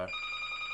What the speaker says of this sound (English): I think my phone is ringing